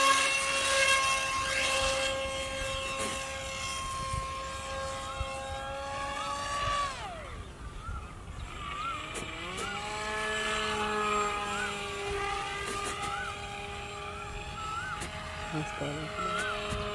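A small RC plane motor spins a 6045 propeller with a loud, steady whine whose pitch drops sharply midway, then climbs and holds again, close and continuous.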